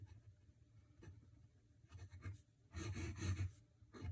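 Chalk or marker tapping and scraping on a board in a lecture room, a few short strokes and then a louder flurry of writing near the end, with no talk.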